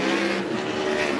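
Race cars roaring together into turn one at Bakersfield Speedway, a dense, loud engine drone with tire scrub, steady throughout the short burst.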